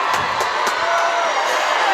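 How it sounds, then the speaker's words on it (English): Fans on the Jackson Olin side cheer loudly at a 2018 high school football game against Minor, a dense wash of shouts and whoops. "As the crowd goes crazy on the J.O."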